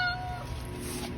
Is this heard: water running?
no